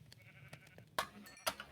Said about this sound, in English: Hey, sheep.